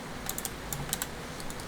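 Close keystrokes on a mechanical keyboard give irregular bursts of crisp clicks and clacks over a faint steady background hiss.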